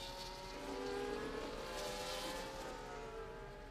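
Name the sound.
F1 24 video game race cars racing in Baku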